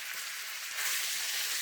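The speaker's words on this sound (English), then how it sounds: "So we're going to brown off the beef. As it sticks to the wok." Beef browning in about two tablespoons of hot oil in a wok, a steady close sizzle and crackle of frying that grows slightly louder partway through, with no talking.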